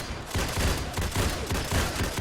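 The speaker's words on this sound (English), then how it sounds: "They've got AA-12s. That's actually irritating because that's extremely loud right in my ear." Rapid automatic AA-12 shotgun fire in Fallout 4, a dense, loud, continuous burst of booming shots close by, filling the whole moment with no talk over it.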